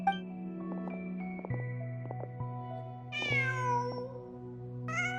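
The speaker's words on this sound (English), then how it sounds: "Just a cat." A cat in Genshin Impact gives several clear, rising meows, near and moderately loud, over a sustained tonal game music background with soft plucked notes.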